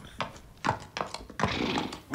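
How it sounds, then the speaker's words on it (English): Hooves of a trotting horse sound in uneven, close thuds over about two seconds, with a brief snorting or whinny-like sound near the end. "I will just get on my horse and trot over to the oubliette to find out."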